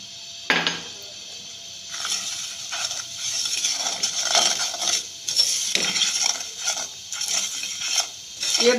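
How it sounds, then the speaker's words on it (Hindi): Milk poured into golden caramelized sugar in a pan for barfi sizzles steadily while a spoon stirs and scrapes in repeated strokes, with occasional clinks against the pan. "अब हम इसमें 1 कप दूध ऐड करते हैं।"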